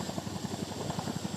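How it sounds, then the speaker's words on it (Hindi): An Indian Air Force twin-rotor Chinook helicopter on a night operation, its rotors beating in a fast, even thudding pulse over a constant engine whine, loud and steady. "ये नाइट ऑपरेशन की इंडियन एयरफोर्स के चिनूक हेलीकॉप्टर्स"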